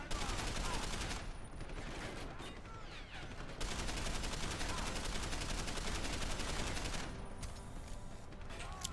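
Rapid gunfire from a character blind firing out of cover in a cyberpunk shooter game, loud sustained automatic bursts nearly nonstop with a couple of brief gaps.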